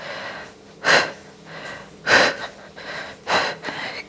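Three short, forceful breaths out during a pilates mat exercise, each a sharp close exhale separated by about a second of quiet.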